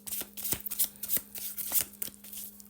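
A deck of cards is shuffled close up in several quick riffling bursts, crisp and papery, with a steady low hum underneath and no talking.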